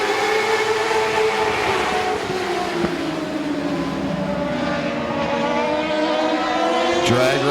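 Race cars roar together down the back straightaway at Midvale Speedway on a dirt-to-asphalt night, a loud, sustained engine drone that swells and shifts pitch steadily throughout.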